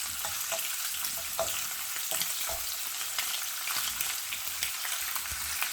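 Saltfish fries in a pan of oil, Jamaican style, giving a steady close-up sizzle with scattered sharp pops and crackles throughout and no voices.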